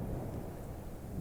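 A thunderstorm outdoors makes a continuous low rumble of thunder mixed with steady rain, a dense, even wash of sound at moderate loudness with no voices.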